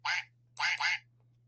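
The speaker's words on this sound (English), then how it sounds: "I got a little quacker duck" A small rubber quacker toy duck squeaked three times in a studio, short bright honking squeaks close to the mic: one alone, then a quick pair, over a steady low hum.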